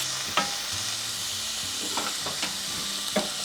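Meat seasoned with salt and pepper stir-fries in a pan with a steady, even sizzle. Faint scrapes and clacks of stirring sound through it, and no one speaks.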